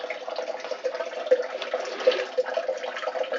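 Water drains slowly from a Maytag/Whirlpool Duet Sport front-load washer with a restricted drain pump, making a steady, close gurgling trickle with small splashy bursts throughout, no voices.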